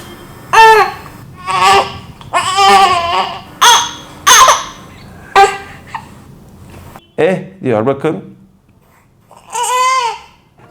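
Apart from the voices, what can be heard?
baby crying from gas in the stomach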